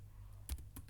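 Two quick keypresses on a computer keyboard entering a Revit shortcut, soft close clicks in a brief quiet moment with no talking.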